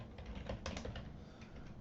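A handful of quick clicks on a computer keyboard, close and very quiet, in a short irregular burst with faint room hum and no talking.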